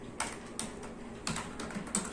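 A computer keyboard is tapped while entering a MySQL insert statement. A few sparse, quiet keystroke clicks are spaced irregularly over a faint background.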